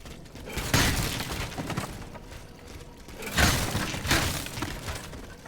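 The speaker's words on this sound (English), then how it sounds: "I say I'm going to give up smashing these barrels" Wooden barrels smashed in Steelrising, two loud splintering crashes a few seconds apart, each with a short clatter of breaking wood and debris.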